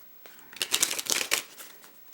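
Thin, slightly rigid Russell Morgan Army & Navy playing cards are handled and shuffled close by, a quick burst of crisp riffling clicks lasting about a second, then quiet.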